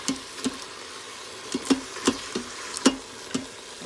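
Beef browning in a very hot pan, heard as scattered sharp pops and crackles spaced irregularly over a faint, quiet background sizzle.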